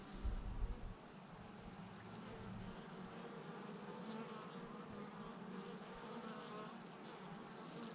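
Honeybee colonies hum with a dense, steady buzz at the hive, close and continuous, with a low thump at the start and no talking.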